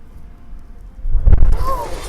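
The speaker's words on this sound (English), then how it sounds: "This crazy. explosion just annihilates the building" A building blown apart by a gas buildup explosion, a deep rumbling boom that swells after a quieter stretch of background noise and is followed by crackling debris and a rising whistle-like tone.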